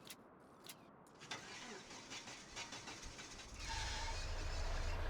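A truck engine cranks in a farming and ranching video game, a few sharp squealing clicks giving way to a rising rumble that settles into a steady, fairly loud idle.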